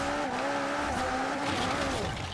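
A McLaren car's engine roars steadily in Forza, a high revving tone holding with slight pitch wobbles and some tire noise, loud and continuous throughout.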